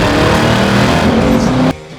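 A supercharged LT4 1968 Camaro restomod cruising at 60 mph in third gear gives a loud, close, steady engine drone with strong harmonics, then cuts off abruptly near the end.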